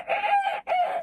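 A person imitates a rooster crowing, giving one close, loud, two-part cock-a-doodle-doo call.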